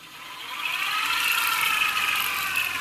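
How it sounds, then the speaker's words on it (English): A miniSpinner electric spinning wheel with a woolly winder running at maximum speed gives a steady high whir with a ratcheting mechanical chatter, swelling slightly in the first half second and then holding constant and close. "noise is the woolly winder that you're hearing"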